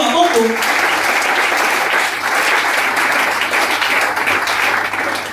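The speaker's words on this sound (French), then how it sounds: "Est-ce qu'on peut acclamer le Seigneur?" Church congregation bursting into sustained applause, a dense steady wash of many hands clapping at close range with a faint voice at the start.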